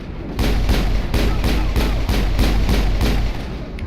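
Rapid, loud bursts of sci-fi weapon fire from the game Mass Effect, a steady run of evenly spaced shots lasting several seconds over a low rumble.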